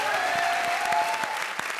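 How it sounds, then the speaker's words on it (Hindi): A burst of applause from a TV comedy show studio audience, steady dense clapping filling the short clip at moderate loudness. "जोरदार तालियां हो जाए मेरे मालिक के लिए"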